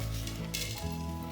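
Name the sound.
fenugreek seeds sizzling in hot coconut oil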